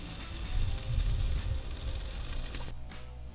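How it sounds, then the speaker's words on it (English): Fresh diced onions and cheese sizzle on a griddle set over a Weber grill, giving a steady crackling fry that eases off near the end. "I'm going to put a few fresh diced onions on there and then put cheese on there and let it melt just a little bit"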